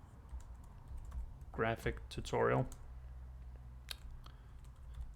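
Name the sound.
typing on a new computer keyboard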